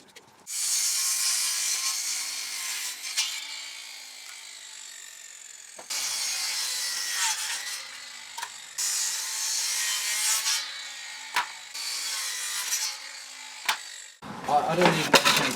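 A power saw rasps through timber jack rafters on a roof build in long sustained cuts separated by brief pauses, near and fairly loud, with a few knocks and a burst of handling noise at the end.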